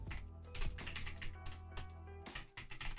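Fingers tap on a computer keyboard in quick, uneven bursts, close and clear, with short pauses between clusters of keystrokes.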